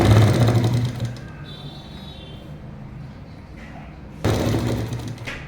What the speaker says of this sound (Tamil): இங்கே இந்த பாக்கெட்டுக்கான இடம் வர்ற வரைக்கும் நம்ம தைச்சு விட்றோம்.